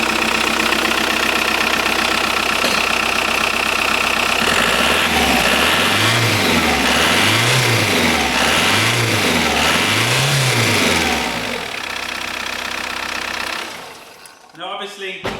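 Diesel car engine with a freshly changed filter, previously hard to start, low on power and smoky, runs loudly up close and is revved in several rising and falling surges before settling and cutting off near the end.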